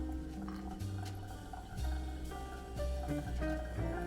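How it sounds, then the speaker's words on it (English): Hot water is poured in slow circles over ground Ka'u coffee from Hawaii, a steady close trickle and splash of liquid over a dense ambient background. "Now we'll just make some circles, then pour in the middle until I hit the 300."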